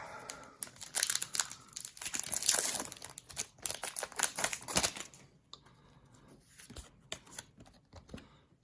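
A Pokemon TCG booster pack is torn open and its foil wrapper crinkled, with bursts of sharp ripping and crackling that fade to a few scattered rustles, close and alone.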